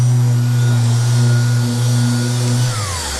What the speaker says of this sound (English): just going to get my orbital sander and some 2000 grit